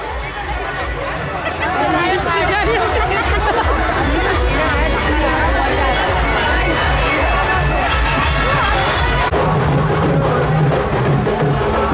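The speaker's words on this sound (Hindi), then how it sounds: "इसमें देख लो महिलाओं की भीड़ इतनी दिखाई दे रही है" A large crowd of women devotees at a religious fair, a dense, loud and steady hubbub of many overlapping voices chattering throughout.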